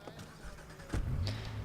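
Car engine in Watch Dogs: a quiet patch with faint clicks, then an engine turning over and settling into a low, steady rumble close by.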